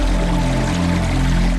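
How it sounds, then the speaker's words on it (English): Rainwater runoff pours steadily into a storage pond in a continuous, loud rush of flowing water. "Runoff flows into a storage pond or tank."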